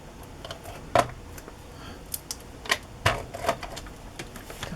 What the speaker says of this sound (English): Put a little tape behind them.